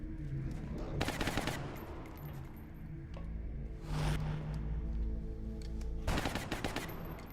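Incoming gunfire in the Long War video game: three separate bursts of rapid machine-gun fire, loud and crackling, spaced a few seconds apart over a low background hum, with no talk.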